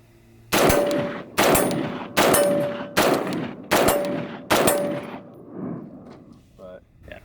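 An AR rifle fitted with a CMC trigger fires six loud, sharp shots in a steady, evenly spaced rhythm, each with a ringing metallic tail, then falls quiet.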